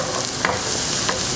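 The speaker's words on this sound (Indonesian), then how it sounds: "Kita tumis lagi sebentar sampai wangi." Garlic sautéing in hot oil in a pan, stirred with a steady, close sizzle and occasional louder scraping stirs, no talking.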